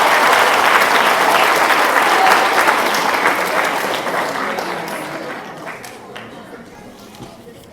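An audience claps loudly and steadily at a 6th grade awards ceremony, with dense, overlapping hand claps that slowly fade away over several seconds.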